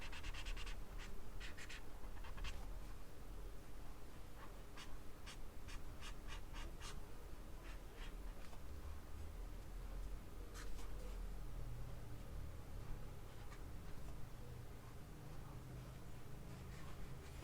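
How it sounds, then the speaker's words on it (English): Pencil scratching short marks on paper for a wolf skull sketch, a run of quick close strokes in bursts with pauses, quiet and without talking. "We're drawing little marks like that"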